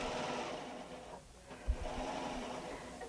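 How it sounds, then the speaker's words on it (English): A sewing machine runs a practice stitching pass as a continuous whirring buzz, dipping briefly in the middle before resuming at a steady moderate level, with no voices. "So I'm just going to do a little practice stitching here"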